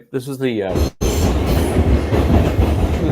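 A subway train rumbling and braking to a stop, a loud continuous low roar with clattering wheels, heard close up right after a brief spoken phrase at the start.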